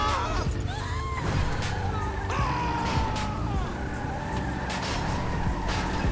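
Tires squeal and skid under a racing car engine in GTA V Online, a low-grip car sliding with repeated screeching sweeps over steady loud motor roar and game noise, close and continuous.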